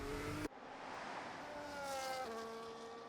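A race car in a sim racing game, running a No Assist Austria Grand Prix qualifying session, spins round: a steady loud engine note with tire noise, a sudden cut near the start, then engine pitch shifting as it recovers, with no talk.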